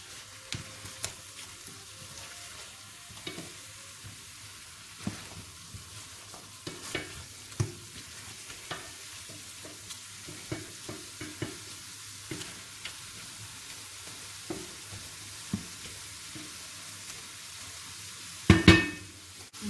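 Pork ribs sizzling in a pot while being stirred, a steady frying hiss under scattered utensil scrapes and clicks against the pot, ending in a sharper clatter.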